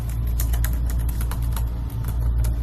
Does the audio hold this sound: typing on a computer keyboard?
yes